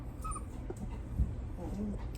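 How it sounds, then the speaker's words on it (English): A newborn puppy whose eyes have just opened gives soft, faint whimpers amid quiet indoor rustling and handling noise, with one brief louder bump partway through. "I have a baby puppy. He just opened his eyes."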